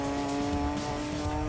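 Steady engine drone from a 390HP Nissan Skyline race car in the Gran Turismo 2 video game, with a constant harmonic whine and a rough low rumble held at full throttle, loud and continuous without a voice.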